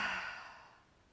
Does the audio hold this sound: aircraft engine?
no